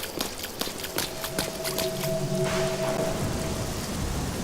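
Steady rain hiss from the game Sacred 2 fills the scene, with sharp crackling bursts of thunder early on and a low rumble building toward the middle, loud and close.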